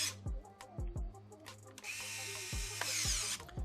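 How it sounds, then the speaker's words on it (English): Small bolts driven into the housing of an XS908 blaster with a power driver, whirring in several short bursts with ratcheting clicks, close up and fairly loud, with a longer hissing whir midway. "We will screw these in."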